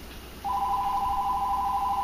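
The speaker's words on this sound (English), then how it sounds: "I'm sorry if you're hearing the phone ring." Telephone ringing in a home, a single steady electronic ring tone starting after a brief quiet moment and holding evenly to the end, clear and alone with no talking.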